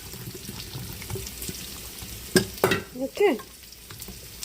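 Food fries in a pan while a green rigatoni dish is being made: a steady sizzle with a few louder splatters and stirring bursts near the end, and a voice speaks briefly at the start.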